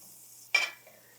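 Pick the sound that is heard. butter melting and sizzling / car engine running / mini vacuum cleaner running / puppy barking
butter melting and sizzling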